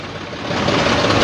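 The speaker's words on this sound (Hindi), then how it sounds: "यहाँ से ट्रैक्टर चलेंगे और ट्रैक्टर आगे बढ़ते हुए" Farmers' tractors rolling along a service road near Gharaunda, a steady broadband engine rumble that grows slightly louder over a little more than a second, with no voices.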